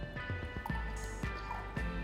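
Water trickles and drips into a compact hookah base, a close, quiet series of splashy drops and gurgles repeating about every half second.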